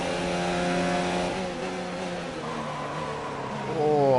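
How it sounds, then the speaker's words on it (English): In F1 2019, an F1 car brakes hard into a corner with its wheels locking up. The high engine whine drops in pitch as it slows, then revs rise again near the end under a moderately loud mix. "Oh, I locked up massively there."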